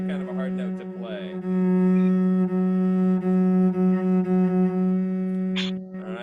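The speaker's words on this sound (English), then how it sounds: "Fourth finger, F sharp on the G string." A cello sustains a long, steady F sharp played with the fourth finger on the G string, bowed alone for several seconds with slight bow changes.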